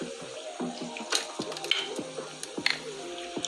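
Opa-locka water poured out nearby produces a wet, splashy gurgle broken by sharp clinks and spatters, moderately loud, with no speech.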